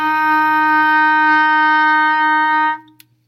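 A single sustained clarinet F note held steady for nearly three seconds, clear and reedy, then cut off abruptly with a small click.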